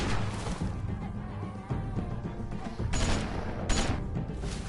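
Gunfire in The Walking Dead Season 2 video game finale, a dense volley of shots with sharp bright bursts near three and four seconds over a rumbling, cluttered game soundtrack.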